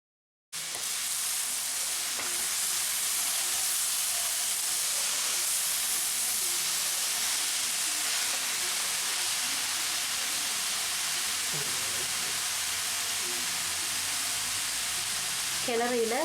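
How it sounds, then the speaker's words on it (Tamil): Mashed potatoes are stirred into sautéed leeks in a hot pan for a leek and potato gravy, giving a steady close sizzle and hiss with faint scraping of the spoon throughout. "லீக்ஸ் வதங்கினதும் அதோட நம்ம வந்து உருளைக்கிழங்கு மசிச்சு வச்சதை சேர்த்து நல்லா கிளறி விட்டுக்கலாம்"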